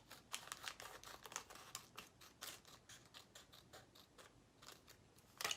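Scissors cut through a sealed plastic bag, a quick series of faint crinkling snips and rustles, close and quiet, ending with a louder crinkle.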